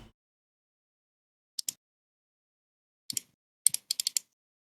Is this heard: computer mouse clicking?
yes